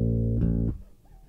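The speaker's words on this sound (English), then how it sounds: "And then the B flat." A single sustained bass guitar note, B flat, hammered on, rings loud and steady for about 0.7 seconds before cutting off, followed by faint low residue.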